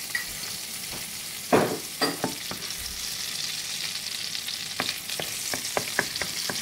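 Butter hits a hot pan for butter chicken, a steady close sizzle and hiss broken by a few sharp clatters and scrapes of utensils against the pan.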